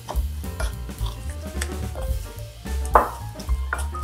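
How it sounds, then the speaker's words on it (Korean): A spoon stirs seasoning for a Korean cucumber salad (sugar and plum syrup) in a bowl, giving repeated close scraping and clinking strokes with small wet squishes, alone without talk. "잘 섞어주세요."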